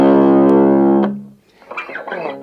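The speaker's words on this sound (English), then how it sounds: "So now add in the distortion, your E string will sound like this." A single low E string on an electric guitar rings out heavily distorted, a sustained buzzing tone that cuts off after about a second, followed by quieter scratchy string noise and fumbling.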